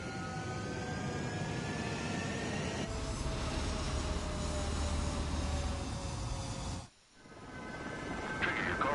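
Fighter jets rolling down a runway for takeoff in Ace Combat 7, a sustained loud jet engine roar with rising whine that briefly drops out and then swells again, close and alone.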